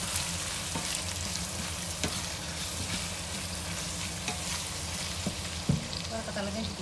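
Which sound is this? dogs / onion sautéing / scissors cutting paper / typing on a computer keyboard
onion sautéing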